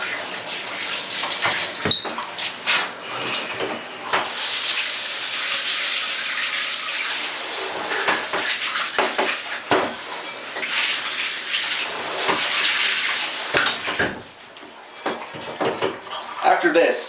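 Dishes being washed in a bathtub under running water, with a steady tap flow broken by irregular clinks and splashes; a person speaks quietly at times.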